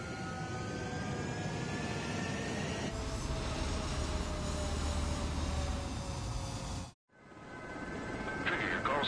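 A fighter jet roars loudly on the runway in the combat flight game Ace Combat 7, a sustained powerful engine whine and rumble that swells, cuts out briefly, then resumes, with radio voices over it.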